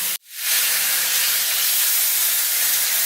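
Pork rind with rosemary sizzles in a very hot pan: a sudden dense burst of hiss after a brief gap, then a loud, steady, close sizzle that holds without a break.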